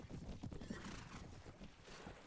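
Cavalry horses in the Suvarnabhumi Mahayuth video game gallop with dense clip-clop hoofbeats and neighing, a loud, continuous battle din that fills the whole moment.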